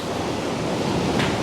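Ocean waves surge and splash into a rock cave on a beach, a steady, loud wash of roaring surf that fills the space from start to finish, with a brief brighter hiss of spray near the end.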